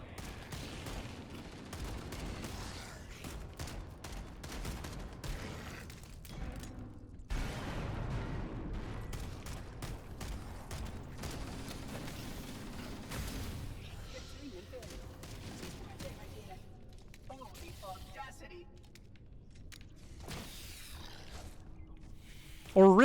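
Gunfire in Halo: Campaign Evolved, with repeated shots and bursts from a pistol and other weapons mixed with explosions and game effects, running continuously at moderate loudness under occasional talk.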